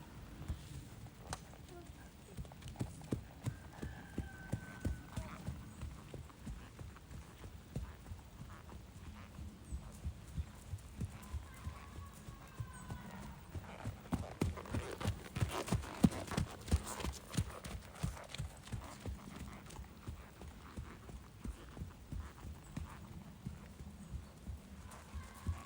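A horse named Charlie gallops toward a vertical show jump, its hooves beating a steady, rhythmic clip-clop throughout. The hoofbeats are moderately close and grow slightly louder and busier midway through.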